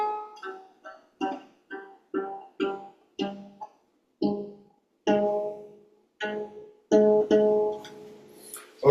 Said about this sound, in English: I had to tune my lower G string to an A